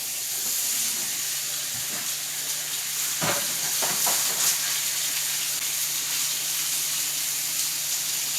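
Pork meat sizzles and fries in a pot on the stove, a steady crackling hiss punctuated by a few sharp clatters and stirring scrapes near the end, with no one talking.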